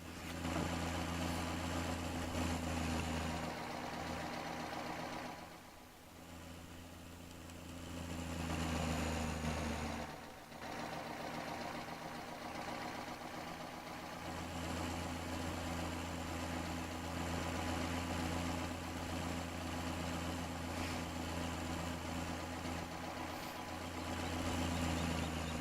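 A tractor engine runs in Farming Simulator 17, a steady low droning hum idling on and off at moderate volume for the whole stretch, with brief dips, no voices.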